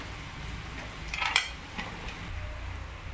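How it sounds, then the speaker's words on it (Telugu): Chapati pieces dropped into a pan for chapati fry, a short scrape and clatter of utensil against the pan peaking once, then softer stirring over a quiet background. "ఇప్పుడు చపాతీని కూడా యాడ్ చేసుకుందాం."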